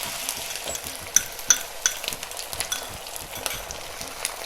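An egg sizzles in a hot pan beside popping ham, a steady bright frying hiss dotted with small crackles and pops, close and continuous, with no talking.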